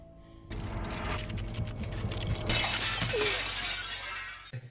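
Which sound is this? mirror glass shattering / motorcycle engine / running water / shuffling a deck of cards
mirror glass shattering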